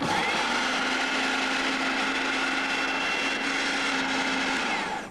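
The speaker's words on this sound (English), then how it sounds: "So put the lid on the blender and switch it on." A kitchen blender whirs continuously as it mixes soap flakes, a loud, steady motor drone with a constant hum that runs unbroken the whole time and cuts off at the end.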